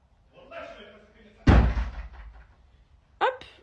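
Two forceful blows strike a door as someone tries to break it, each a loud close slam with a heavy low boom; a voice is heard briefly before the first hit.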